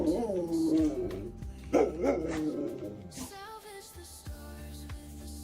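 Puppy Katie barks in a few short, close bursts mixed with whimpering yips, over a low steady hum of game sound with tones and clicks.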